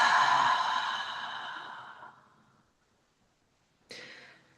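A long, audible exhale during a vinyasa yoga session fades out over about two seconds, followed after a short pause by the start of another breath.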